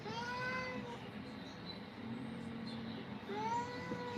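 A cat brought in for grooming meows in two drawn-out, plaintive calls, one early and one near the end, over a low background hum.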